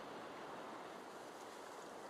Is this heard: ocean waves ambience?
yes